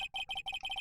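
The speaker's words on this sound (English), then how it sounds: "I heard a phone ring just now." Electronic phone ringtone from the Phoenix Wright: Ace Attorney video game, a bright warbling trill repeating in quick pulses with brief gaps, loud and alone.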